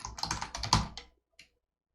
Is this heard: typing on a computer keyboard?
yes